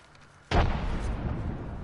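A frag grenade detonates in a PS4 shooter game, a single sudden deep boom after a quiet lead-in, followed by a rumbling decay that lingers to the end.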